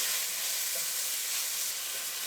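Tomato cooking down with zucchini in a non-stick pan, producing a steady, dense sizzle and hiss that stays close and even throughout.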